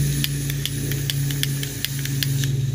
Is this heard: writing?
no